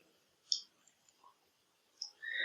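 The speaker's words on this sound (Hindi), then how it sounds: "जिसपे मैं क्लिक कर रहा हूं।" Mouse clicks on a computer while opening the InPage Urdu program icon: a sharp click, a couple of faint taps, then another click and a brief rustle, close and quiet, with no talking.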